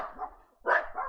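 Dogs named Zeke and Kaya, worked up at home, give two close, loud barks, the second sharper and stronger than the first, with no talking.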